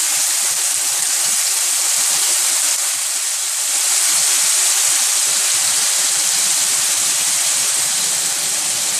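Whiskey poured into a pan of cooking salmon sets off a loud, steady sizzle and hiss of steam and spitting oil, with crackling pops running underneath for the whole stretch and no talking.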